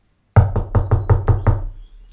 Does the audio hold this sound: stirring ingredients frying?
no